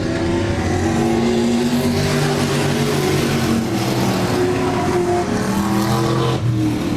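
Race cars on a short-track oval during a memorial prelude event run loud and steady for the full stretch, a continuous roar of several engines with no talk.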